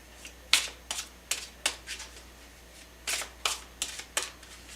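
Tarot deck being shuffled by hand, a string of quick crisp riffling bursts in two rough clusters, close and dry with faint background hum.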